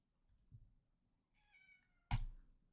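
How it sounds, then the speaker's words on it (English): A house cat gives a single short meow in a quiet room, preceded by faint soft bumps and followed by a sudden close thump. "Oh, we have a cat."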